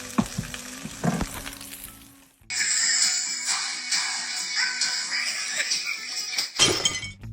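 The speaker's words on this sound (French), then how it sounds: "une personne qui réagit aussi calmement face à de l'huile bouillante renversée partout sur une table" Boiling oil spilled across a table sizzles and hisses loudly and steadily for several seconds, after a brief clatter and knocking at the start and a sharp crash near the end.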